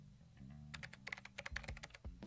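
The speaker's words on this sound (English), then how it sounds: "Sasazuka connected my cell phone to the PC and began to type on the keyboard." Someone types on a PC computer keyboard in a quiet room, a faint, quick run of irregular key clicks that grows busier after a short pause.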